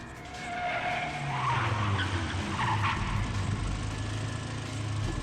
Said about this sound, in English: The rear tires slipped.